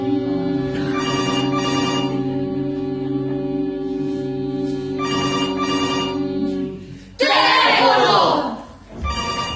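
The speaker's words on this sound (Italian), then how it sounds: "Telefono!" A telephone ringing indoors in an Italian stage comedy, repeated bell-like rings in bursts with a pause between, followed by loud chatter and voices.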